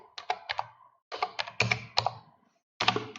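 Bursts of clicking keystrokes on a computer keyboard, close and fairly loud, in irregular clusters separated by short pauses, with no talking.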